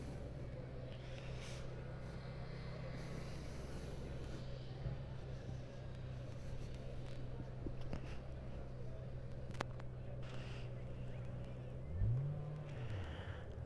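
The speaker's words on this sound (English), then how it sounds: "So here's some engines over there in the staging area" Race car engines idle and rumble steadily in a speedway staging area at Lebanon I-44 Speedway, a continuous low drone with a brief rising rev near the end, heard from a moderate distance.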